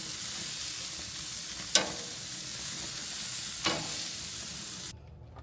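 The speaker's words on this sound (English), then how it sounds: "I'm gonna throw on the burgers right now." Hamburger patties sizzle on an outdoor grill with a steady, close frying hiss, broken by two brief clinks or scrapes before the sound cuts off near the end.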